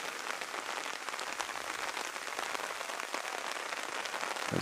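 Steady heavy rain pours down over a live amateur soccer match between Virginia Dream and LAI FC, a dense, even hiss of drops drumming on surfaces that holds constant throughout without pause.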